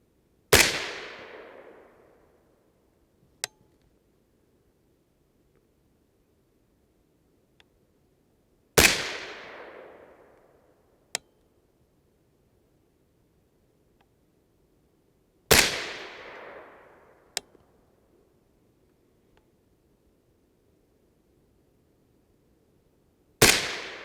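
Three loud, sharp 6.5 Grendel rifle shots fired with Barnes TTSX ammunition, spaced several seconds apart, each followed by a fading echo, with faint clicks between shots.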